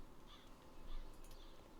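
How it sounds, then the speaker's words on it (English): A pet bird gives a few harsh, crow-like caws at close range, short rough calls repeating over a low room hum with no voices. "Bird."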